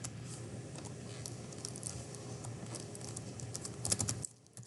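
Rapid keystrokes on a computer keyboard as an expression is entered into graphing software, a steady close patter of clicks that runs several seconds before stopping abruptly near the end.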